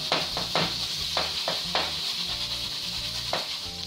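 Ground pork meatballs fry in a pan with a steady, close sizzle, broken by several short scraping stir or turn sounds; no one speaks.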